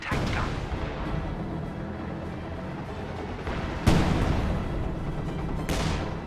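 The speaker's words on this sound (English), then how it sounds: "SU-76s are going to bombard this anti-tank gun position again." Artillery shells from SU-76 self-propelled guns bombard an anti-tank gun position in a war video game, a continuous rumbling barrage with two sharper, louder blasts landing toward the end.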